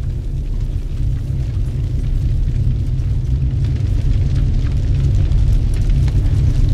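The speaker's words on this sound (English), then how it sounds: "Our holy temple is burning." A holy temple burning in a fire gives a steady, heavy low roar, continuous and loud with faint crackle above, no voices.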